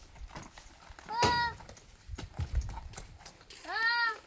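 A horse newly fitted with fresh horseshoes walks on hard ground, its hooves clip-clopping in a steady rhythm, and it gives two short whinny-like calls, with people talking around it.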